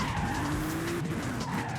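A Bentley with the top down and off-road tyres skids through a corner in Forza Horizon 5, its tyres squealing over a loud engine drone, close and continuous for a couple of seconds.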